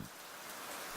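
Steady, dense rain in the video game Fallstreak, a constant hiss of drops falling over a surface with no breaks or talk.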